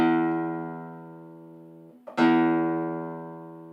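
A guitar's low E string is plucked and rings out with a long sustaining tone, is briefly muted, then plucked again and left to ring and fade.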